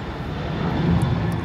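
An airplane flying overhead at a Nashville distracted-driving enforcement event gives a steady, broad engine roar that swells slightly louder toward the end, with no talking.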